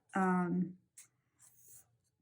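A sheet of paper is folded back and forth into a zigzag, giving two short, crisp, close crinkling rustles after a brief voice.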